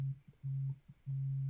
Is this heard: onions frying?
no